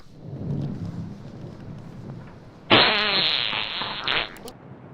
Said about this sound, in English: The last the final fart.